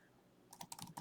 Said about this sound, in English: opening up an editor window in MATLAB and then typing some of the basic commands that we're familiar with